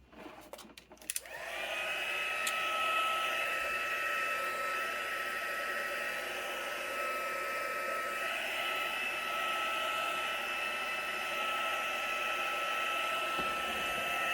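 A hair dryer drying acrylic paint on a painting switches on after a brief click and holds a steady, loud, close whirring blow for over twelve seconds.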